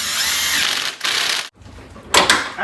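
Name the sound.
impact wrench tightening a bolt on a Corolla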